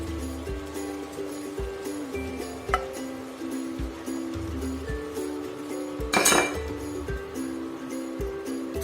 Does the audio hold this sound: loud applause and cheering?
no